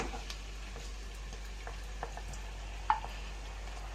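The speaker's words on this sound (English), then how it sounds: "Now we are ready to add mushrooms to the potatoes and onions." Mushrooms frying with potatoes and onions in a pan, a soft, even sizzle over a low background hum, with a few faint stirring clicks and one sharper tap; no talking.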